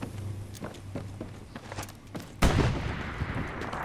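Tank rounds and grenade explosions in a war video game, with scattered sharp gunshots and footsteps leading to a heavy, loud boom that rumbles on afterward.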